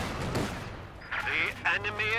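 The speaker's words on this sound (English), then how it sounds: "Anti-tank gun missing its first shot" An anti-tank gun firing in a Company of Heroes 2 1v1 match: a booming report at the start settles into distant battlefield rumble, with a commentator talking over the rest.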